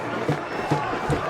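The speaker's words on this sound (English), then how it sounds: "The student section's going crazy, band's playing, crowd's cheering" A football stadium crowd cheering during a varsity game after a fourth-quarter go-ahead touchdown, a dense roar with rhythmic bursts of shouting and voices mixed in.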